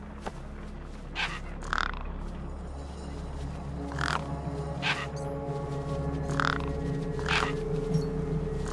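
Several crows caw over a corpse propped against a rock in Beyond a Steel Sky, harsh calls repeating irregularly at mid distance over a constant low ambient hum, no voices.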